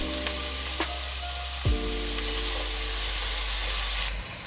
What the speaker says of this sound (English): We're just gonna go ahead and let that fry up a little bit